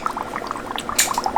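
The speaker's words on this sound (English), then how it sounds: "use the processor to flush the enzymatic cleaner" A gastroscope processor flushes enzymatic cleaner through the scope, producing close gurgling, bubbling liquid sounds with small splashes and a brief hissy burst, no speech.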